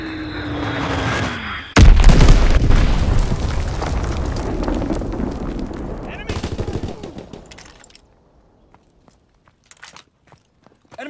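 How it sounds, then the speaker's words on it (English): Bomb explosions and rapid gunfire in the World War II shooter Call of Duty: WWII during a Team Deathmatch on Valkyrie, starting with a sudden loud blast, then a dense roar of shots and impacts that fades away, leaving a few scattered distant pops. "Enemy bomb incoming."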